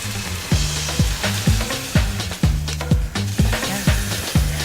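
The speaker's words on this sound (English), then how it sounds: "the liquid nitrogen is turning into a gas" Liquid nitrogen tipped into an ice cream mixture boils off into gas with a steady, close hissing sizzle, punctuated by regular low thumps from continuous stirring; no one speaks.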